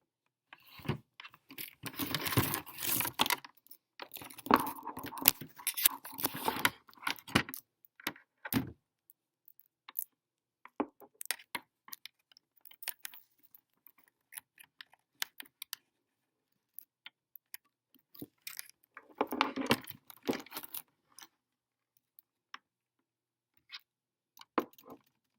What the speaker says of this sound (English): I'm probably giving y'all ASMR with my nails clicking on this